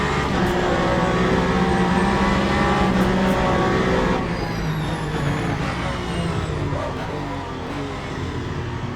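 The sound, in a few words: Ferrari race car engine in racing simulator game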